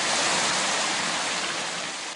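Dourado fish in a farm tank splash steadily while taking feed, a dense continuous watery rush close by that fades slightly toward the end.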